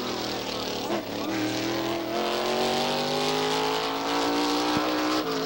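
A NASCAR Winston Modified race car roars past at Star Speedway in 1990, its engine note sweeping with a brief dip near one second and then a rising, loud drone, while a commentator talks over it.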